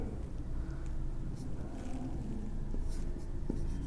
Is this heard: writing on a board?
yes